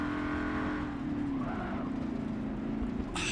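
A race car in Forza Motorsport 7 pulls away with a steady, droning engine note that climbs in pitch, holding loud and continuous before a brief sharp noise at the end.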